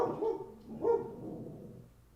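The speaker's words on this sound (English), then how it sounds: "Hey, dogs, quiet." Two separate barks from dogs, moderately close and fairly loud, each fading into a short tail, with no talking over them.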